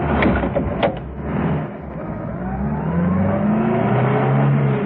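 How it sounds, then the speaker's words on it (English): A car starts up and is driven off quickly down a driveway in a radio drama, its engine running steadily and loud throughout, rising slightly in pitch as it pulls away, with no talk. "Steed made it to the other side of the car, ducked into it, started it up, and drove as quickly as he could down the driveway"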